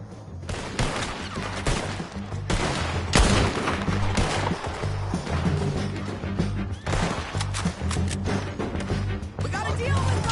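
Gunfight in Red Dead Redemption 2, with dense rapid volleys of gunshots cracking back to back, loud and close, mixed with shouting voices throughout.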